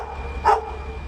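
A single short dog bark pops out once, fairly close, over a low steady hum.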